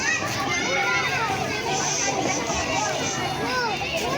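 Noisy children play and chatter at a Christmas feeding program held on a court, a dense, constant babble of many young voices close by throughout.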